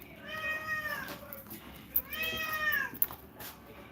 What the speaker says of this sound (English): Floyd says, hi, warriors. He is a tiger cat.